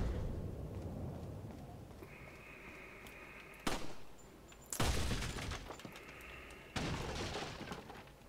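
Rifle gunfire in Resident Evil 4, several sharp loud cracks spaced a second or so apart, each with a brief ringing tail, over quiet game ambience.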